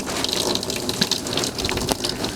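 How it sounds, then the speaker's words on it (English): Water gushes steadily from an outdoor faucet into a container being filled for an ice sledding hill, a loud, close, continuous splashing rush with no voices. "line up the faucet, turn your faucet on, and it'll fill it up"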